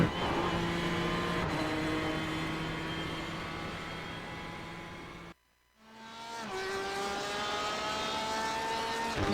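A GTE sports car engine at Road Atlanta in a sim racing game roars at high revs, cuts out sharply for a moment on a shift or lift, then climbs back up with rising pitch, no talking.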